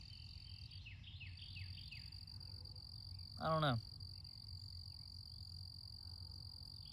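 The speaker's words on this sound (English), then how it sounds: "Y'all hear that cricket?" Loud cricket chirping close by, a steady high-pitched trill running through the whole stretch, with a brief croaking call in the middle and a voice speaking a few words.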